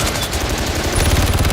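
Rapid machine gun fire from a waiter in a Purge movie scene, dense and continuous bursts ringing out loud and close for the whole moment, with no voices over it.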